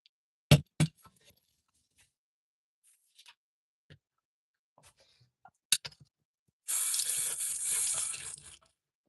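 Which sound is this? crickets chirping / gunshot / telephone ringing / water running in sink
water running in sink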